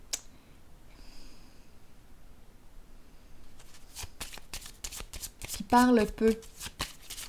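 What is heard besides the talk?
shuffling tarot cards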